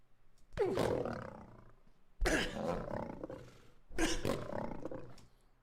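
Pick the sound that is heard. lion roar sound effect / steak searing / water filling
lion roar sound effect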